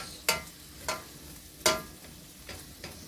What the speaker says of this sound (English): This does take the longest time, getting the onions all wilted down